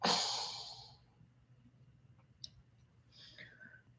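A deep, breathy exhale opens the moment during a singing warm-up stretch, loud and close at first and then tapering into near-silence, with a couple of faint clicks and soft breaths afterward.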